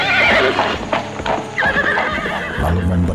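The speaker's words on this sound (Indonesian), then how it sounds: "hanya mendengar derap kaki kuda Megolamat" A white-grey horse's hooves thud in quick galloping clip-clops in an audio drama, loud and close, with a neigh near the end.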